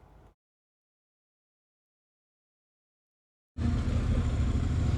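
A Honda NC750X motorcycle rides into town, its steady engine and road rumble cutting in loud and close after a stretch of near silence.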